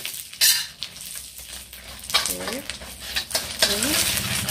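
Spring onions fry and get stirred in a wok, with a steady sizzle and broadband hiss under clattering scrapes and metallic knocks of the utensil against the pan; a couple of brief voiced sounds rise faintly in the background.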